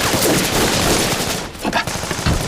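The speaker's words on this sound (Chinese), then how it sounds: "小队长，射击！" Dense, continuous volley of rifle and machine-gun fire in a war drama battle scene, a steady loud crackle with a brief dip before sharper shots resume.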